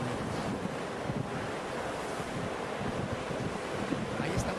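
A played recording of ocean waves: steady, dense surf wash with a soft wind rush over it, continuous and fairly quiet throughout without distinct breaks.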